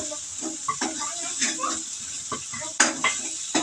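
Potato bhaji is stir-fried in a pan at home, with a soft sizzle under frequent close clinks and scrapes of a utensil against the pan.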